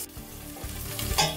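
Onion tossed into garlic already browning in hot oil, a loud continuous sizzle and crackle close by with stirring scrapes, no voices.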